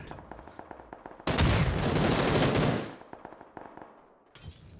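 Gunfire during a PUBG esports fight: scattered distant single shots, then a dense roaring burst of heavy fire lasting about a second and a half, followed by more sporadic cracking shots.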